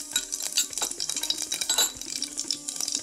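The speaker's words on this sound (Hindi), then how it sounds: "अब तेल गर्म हो गया तो हम इस पे आधा चम्मच जीरा डालेंगे" Half a spoon of cumin seeds tipped into hot oil in a home kitchen, with a spoon clinking and scraping against the pan amid a steady, close crackle of light frying.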